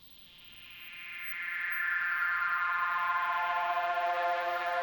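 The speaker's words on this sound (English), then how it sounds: "Next we have our second pad that sounds like this." A techno-style synth pad holding one long F note, swelling in from quiet to a steady sustained tone with a slowly brightening timbre, played alone.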